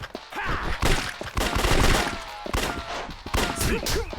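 Repeated gunfire bursts from guns in the Yakuza 3 video game, loud sharp shots and rattling volleys spread across the stretch, with grunts and game noise mixed in.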